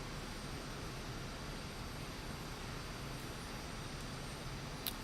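Continuous engine roar of an Aermacchi MB-339 jet in Microsoft Flight Simulator 2024, an even hiss-like drone at fixed loudness, broken only by a tiny click near the end, with no speech.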